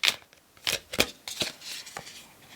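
Tarot cards being shuffled by hand, a series of crisp riffling and slapping card sounds in irregular bursts, close and fairly loud, with no talking.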